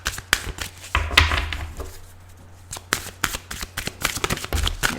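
Tarot cards shuffled by hand, rapid close riffling and slapping in repeated bursts with a brief quieter pause midway.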